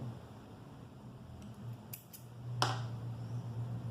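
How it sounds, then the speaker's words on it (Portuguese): Scissors snip through crochet yarn while making a small handbag, giving a few quick, quiet cuts close by against a soft room hush, with no talking. "vou cortar aqui o meu fio"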